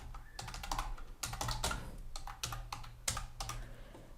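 Fingers tap on a computer keyboard to enter a new password, a close, quiet run of uneven keystrokes with short pauses between bursts and no voices.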